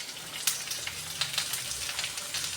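Home-cut steak fries sizzle and crackle steadily in hot oil, a dense close-up frying hiss with scattered sharper pops and no talking.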